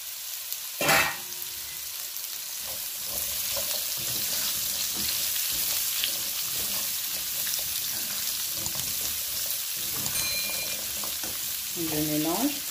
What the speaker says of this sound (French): Ensuite, je fais revenir dans cette huile-là les courgettes.